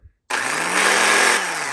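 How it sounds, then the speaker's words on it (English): A snowblower's electric starter suddenly kicks in after a moment of quiet, cranking the engine over with a loud, steady whirring drone that holds for over a second. "If it works, when it spins, it's going to shoot the gear out into the engine, turn the engine over."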